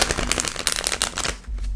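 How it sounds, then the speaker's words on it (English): Tarot cards are shuffled quickly by hand, a close, dense run of crisp riffling flutters and slaps that stops abruptly, leaving a low rumble. "Quick shuffle, guys."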